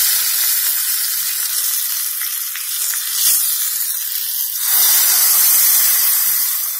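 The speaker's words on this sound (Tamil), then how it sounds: "எண்ணெய் நல்லா சூடானதும் 1 டீஸ்பூன் கடுகு, 1 டீஸ்பூன் உளுந்து, 1/2 டீஸ்பூன் பெருங்காயத்தூள் சேர்த்துக்கோங்க." Mustard seeds, urad dal and asafoetida crackle and sizzle steadily in hot oil for an onion chutney tempering. The loud, bright hiss carries on without a break and swells near the end.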